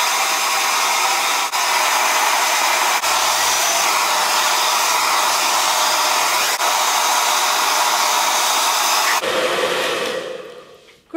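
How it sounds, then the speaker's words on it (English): Handheld hair dryer drying a person's hair, a loud steady blowing roar that runs continuously for several seconds before switching off and winding down. "Right, I think it's now time that I started drying my hair."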